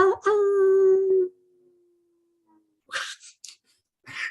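Several people imitate a wolf howl, with a loud, sustained wavering voiced cry that tapers off into a faint tail, followed by a few short breathy bursts and murmurs.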